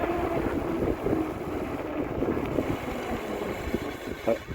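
Wind rushing across the microphone while riding an ENGWE Engine Pro 2.0 electric bike: steady, dense rumbling noise with small gusts throughout, no speech.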